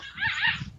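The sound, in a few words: puppy barking while playing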